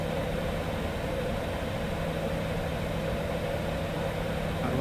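Cessna C750 jet engines idling in Microsoft Flight Simulator 2024, a steady broadband whine and rumble with a low hum, constant and unchanging, heard from the cockpit with no talk.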